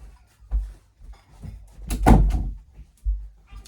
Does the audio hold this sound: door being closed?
yes